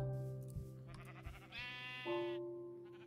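Sheep in the Minecraft video game giving a few bleats, one short low call followed by a longer wavering bleat that rises, clear and alone over a faint steady hum.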